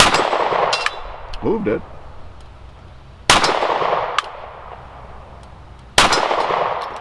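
Pistol shots from an S&W Shield Plus at an outdoor range, each crack followed by a sharp metallic clang from a steel target. Three loud reports are spaced a few seconds apart, and a brief voice speaks between them.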